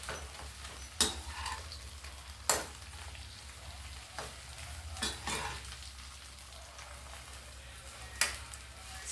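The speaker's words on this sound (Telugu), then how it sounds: "సిమ్లోనే ఉందండి, ఎక్కడ మనం చెయ్యి వదలకుండా వేగించుకోవాలి." Tomato and coriander chutney ingredients fry in oil on a low flame with a steady soft sizzle, broken by a few sharp clicks and scrapes as a spoon stirs the pan.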